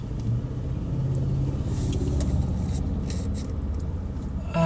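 A GMC Sierra Classic's engine runs with a steady low rumble and faint mechanical ticks, nearby and moderately loud with no talk over it.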